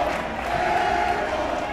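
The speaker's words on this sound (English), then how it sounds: "Colorful chants from the USN crowd" A student crowd chanting in a high-school basketball gym, a dense, sustained roar of many voices at steady loudness.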